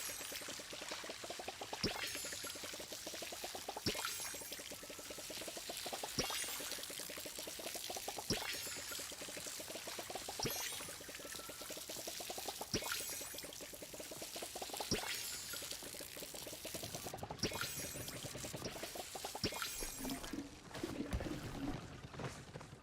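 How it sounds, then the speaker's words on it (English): Watering plants with a watering can in the cozy video game Palia, a soft steady pour of water repeating in regular splashes every couple of seconds, faint and alone. "Thank you for coming to help me water."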